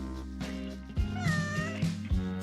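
A cat named Fluffy meows inside a homemade pet maze, a few drawn-out, rising and falling cries close by over a steady low background hum, with no talking.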